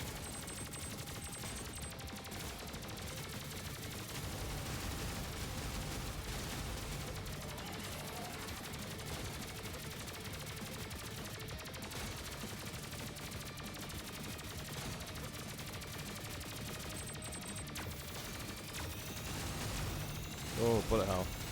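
Dense, continuous gunfire of many bullets in the Terminator 2D: NO FATE video game, a steady rattling barrage throughout with music and game noise, a voice speaking over it and a sharper burst near the end.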